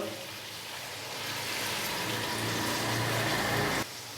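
Boiled beef and a cup of yogurt go into a hot pot for beef yakhni pulao, giving a steady, swelling sizzle and watery bubbling that ends abruptly.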